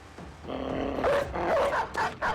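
Dogs in the video game Battle Brothers bark in a quick burst of several sharp, close barks, the last few coming in a fast rhythmic run.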